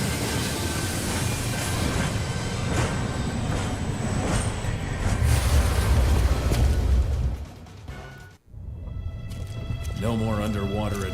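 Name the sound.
train moving in the video game Onimusha 3: Demon Siege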